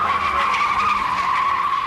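A steady, high, sustained tire squeal comes from Fazekas's Showroom Stock race car at the 1980 national championship as it slides sideways after a collision with Burrell's car left its sheet metal damaged. The squeal stays loud and close throughout, with engine noise underneath.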